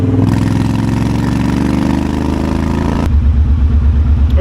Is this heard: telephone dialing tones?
no